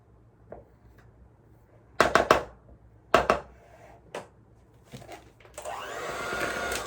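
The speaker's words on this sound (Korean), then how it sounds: "기계로 한번 살짝 섞어 줄게요" An electric mixer stirs apple crumble cake batter, preceded by scattered clatters and knocks, then the motor whirs up steadily near the end.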